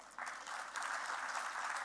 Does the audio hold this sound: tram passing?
no